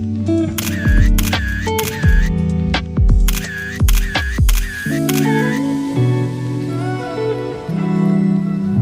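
Single-lens reflex camera shutter firing in bursts of rapid clicks, several sharp clustered snaps with mechanical whirs, taken outdoors on a winter trip in South Korea, close and loud.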